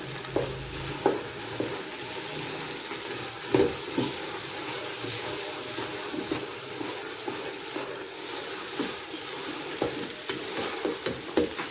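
Carrot halwa with eggs roasting in a pan hisses and sizzles steadily, broken by repeated scrapes and clanks of stirring at close range, with no talking.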